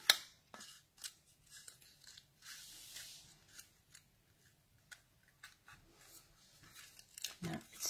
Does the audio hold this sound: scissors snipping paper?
yes